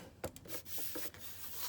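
Paper pages for a notebook are trimmed with a few quiet, close scraping and rubbing strokes and short dry swipes, irregularly spaced.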